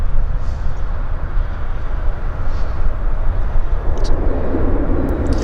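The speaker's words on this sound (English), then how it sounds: "I wasn't sure we were going to actually get to see a Saab landing here this morning." A Saab 340 turboprop airliner lands at Vancouver Airport, a loud steady roar of engine and rushing air with a broad low rumble that keeps going throughout.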